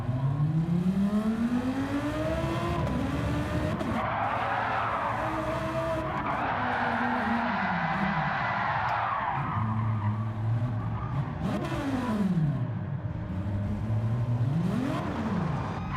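Tires squealing and skidding as a car slides sideways through corners in the racing games Assetto Corsa Competizione or Gran Turismo 7, with engine tones rising and falling under loud, continuous screeching that swells and fades over several slides.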